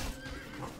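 A horse in a medieval battle video game neighs as it dies, a short, faint whinny lasting under a second.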